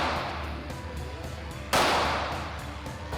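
A single pistol shot fired with iron sights at 3 yards rings out sharp and loud midway, its report decaying over the following second, with faint low background noise before it.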